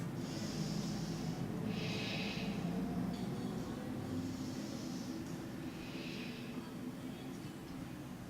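Slow, steady breaths drawn in and let out during a gentle flow yoga practice, each inhale and exhale a soft airy hiss repeating every couple of seconds over a low continuous hum.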